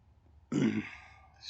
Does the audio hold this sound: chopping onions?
no